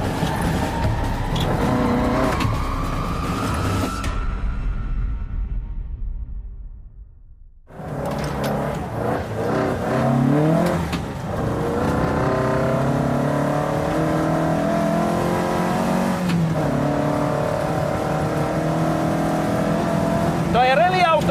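Rally car driving fast over rough ground with a limited-slip differential, its engine loud and continuous with revving swells, a brief quieter gap partway through, and someone talking over it.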